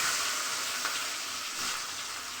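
Garlic hits hot mustard oil with five-spice tempering and sets off a steady, close, bright sizzle that holds at an even level throughout.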